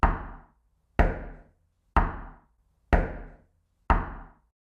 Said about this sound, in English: the knocks come from inside the bedroom closet, just inches from where we huddle in terror